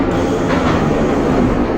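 Steady low rumble of a garbage train rolling along the track in the OpenBVE train simulator game, continuous and fairly loud with no talk.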